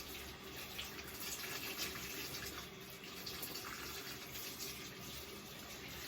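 Tap water runs steadily into a bathtub in an old apartment, filling it to soak vintage clothing; a continuous, even splashing gush with no speech.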